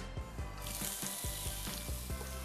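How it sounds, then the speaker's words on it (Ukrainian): A pan sizzles steadily with a bright, crackling hiss of onions frying in oil, broken by a few soft low knocks. "починаємо осмажувати на сковорідці"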